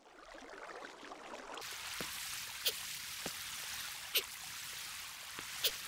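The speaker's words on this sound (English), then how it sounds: "there he is, getting up the water elevator" Steady rushing flow of water in a Minecraft water elevator, a continuous stream-like wash with a few sharp clicks and pops scattered over it, no voices.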